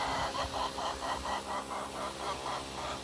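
Buff Orpington hens cluck in a chicken coop, a run of soft, rhythmic clucks close by, steady and moderately loud with no talking.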